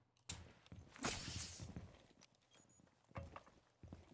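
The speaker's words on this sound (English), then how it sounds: "you can hear the footsteps" Footsteps in the tactical shooter Rainbow Six Siege, a run of muffled thumping steps with a louder scuffing burst, then scattered quieter steps and clatter.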